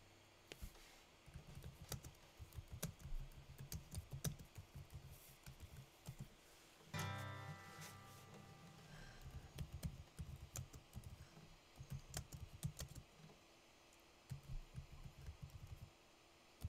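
Fingers type on a computer keyboard at close range in quiet bursts of rapid key clicks, pausing briefly, with a low hum and a short burst of louder noise midway.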